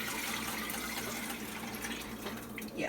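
French onion soup pours steadily into a pot, a continuous close liquid splashing and gurgling that holds at an even level for a few seconds.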